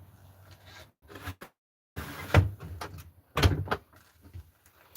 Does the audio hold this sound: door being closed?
yes